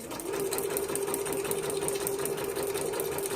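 A sewing machine runs steadily through fabric squares, a continuous close whirring hum with rapid stitching texture that holds without pause for the whole stretch.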